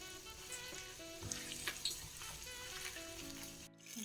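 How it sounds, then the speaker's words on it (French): Chili peppers frying in a Cookeo multicooker set to browning mode give a continuous close sizzle and crackle with a few brief stirring clinks, steady throughout and heard on their own. "là j'ai mis mon cookéo en mode doré et je suis en train de frire mes piments"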